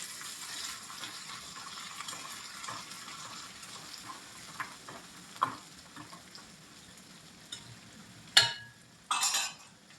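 Onions and coriander fry in hot oil for a dal tempering, giving a steady, soft sizzle with a few sharp clinks of a utensil against the pan near the end.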